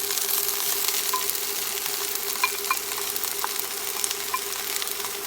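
Mushrooms sizzle in a pan for a pork stir fry, a steady close crackling hiss with small pops and faint scrapes, no talking over it.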